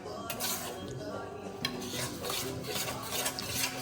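Gram flour roasting in a pan for sukhadi, a Gujarati sweet, with steady scraping and stirring of a spoon against the metal and soft sizzle underneath, continuous and fairly close throughout.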